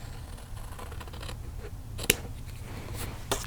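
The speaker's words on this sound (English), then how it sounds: "this is where scissors work a treat" Scissors snip through wet, glue-soaked vintage paper, a steady crisp cutting texture with two sharper closing snaps, close and alone.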